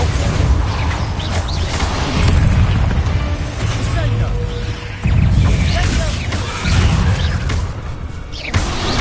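Repeated Bombardo blasting spell explosions in Hogwarts Legacy: loud booming bursts with crashing debris, several in sequence within a busy combat soundscape, with a voice speaking over it.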